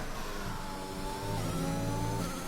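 An F1 car in the F1 2021 video game revs hard during a qualifying lap at the Austrian GP, a continuous loud engine whine climbing in pitch, with no voices.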